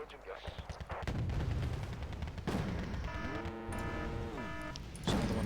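Gunfire from a battle in the Wargame Red Dragon strategy game set in a second Korean War, with dense overlapping bursts and booms, steady and loud, and a tonal whine running through the middle.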